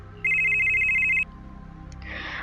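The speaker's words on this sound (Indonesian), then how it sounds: "Tiba-tiba HP ayahku berbunyi." A mobile phone ringtone, a loud steady electronic trill lasting about a second, then cut off and followed by soft rustling in a dim, quiet setting.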